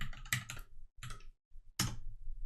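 Keys clatter on a computer keyboard in quick bursts of typing, separated by short pauses, close and fairly quiet with nobody talking.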